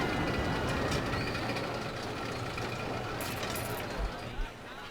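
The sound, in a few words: train riding the rails in video game Parkitect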